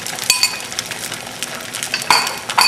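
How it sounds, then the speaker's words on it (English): Eggs are scrambled in a buttered pan, a metal utensil clinking and scraping against the pan in quick, irregular strokes over a constant close background hiss. "now in go the eggs, and this is kind of a scrambled egg basically"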